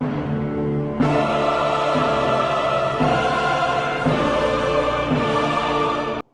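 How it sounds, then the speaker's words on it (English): Pacer diesel train idling at a railway station platform, a steady loud engine rumble with harmonic drone, stepping up at about one second and holding until cutting off at the end. "I couldn't help myself putting a pacer train in this vlog"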